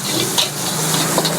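Rice for nasi goreng being stir-fried in a pan, a steady close sizzle with soft scraping of a spatula running continuously and alone, no voices.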